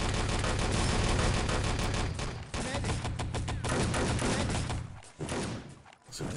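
Dense, rapid automatic gunfire fills a match of the video game Enemy Territory, with loud overlapping bursts and volleys running almost continuously, briefly thinning near the end.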